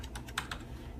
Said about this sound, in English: I'm going to type in the number into the comments